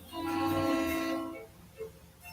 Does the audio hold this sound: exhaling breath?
no